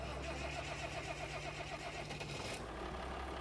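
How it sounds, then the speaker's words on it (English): A tractor's engine cranks and catches, a steady mechanical churn with a rhythmic pulsing starter sound, then a change as the motor fires and settles into a rough idle, close and loud with no talk. "So yeah, getting to use a tractor is always a good time. So let's hop in and we can get it fired up."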